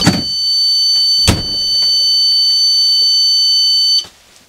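A Detect SX2 alarm in a camper van goes off as the entrance door opens, giving a loud, steady high-pitched electronic tone that holds for about four seconds and then cuts off abruptly, with a couple of door thuds at the start.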